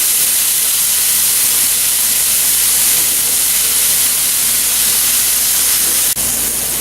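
Pork chops sear in a hot pan right after being flipped, giving a loud, continuous close-up sizzle and hiss that holds steady throughout.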